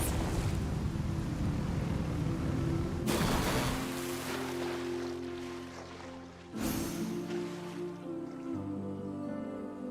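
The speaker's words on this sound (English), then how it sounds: "Rev the engines!" Boat engines rev in Genshin Impact as a deep, surging roar with rushing water, loud and close, swelling twice with sharp onsets before settling into a steadier rumble.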